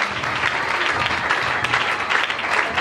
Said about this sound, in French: Est-ce qu'on peut acclamer très fort pour le Seigneur?